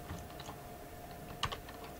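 Computer keyboard keys pressed in short, quiet clicks during a game. Several light taps come first, then a sharper, louder double click near the end, over a low hum.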